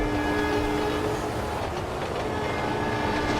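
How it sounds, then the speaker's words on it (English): A train passing in the driving video game The Crew 2, a dense, continuous rumble of rolling wagons with a sustained horn-like tone layered on top, loud and steady throughout. "Here comes the train."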